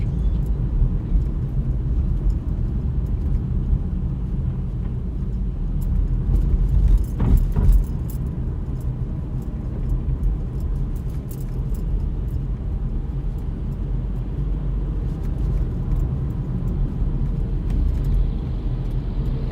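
A car drives through Manhattan in New York City on a January day, its engine and road noise forming a steady low rumble throughout, with a brief louder swell partway through as traffic passes close by.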